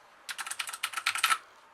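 Rapid, crisp clacking of a Quick Fire Rapid keyboard with Cherry MX Blue mechanical switches, about a dozen sharp, close keystrokes in a quick burst lasting roughly a second, otherwise quiet.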